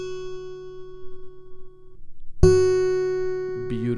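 A single guitar note, the first string fretted at the second fret while learning a D chord, rings out clearly and alone after a quiet lead-in, sustaining and slowly decaying, with a faint touch near the end.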